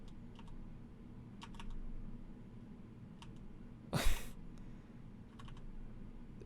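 Fingers pressing keys on a computer keyboard, producing scattered light clicks in small clusters over a low background hum, with one louder clack partway through.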